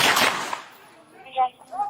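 Gunshots from a played video ring out as a sharp, echoing crack at the start that decays into reverberant noise, followed by fainter tonal sounds.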